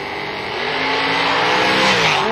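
Race cars roaring down the racetrack at Montgomery Raceway Park during The Million 2016, a loud, dense engine drone that swells steadily over a couple of seconds with no talk.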